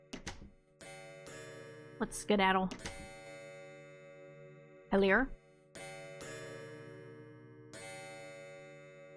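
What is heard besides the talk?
clock chiming non-stop in a video game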